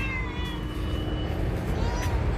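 Cat meowing in a garden amid steady background traffic rumble, several drawn-out mews rising and falling at moderate distance, with faint voices in the background.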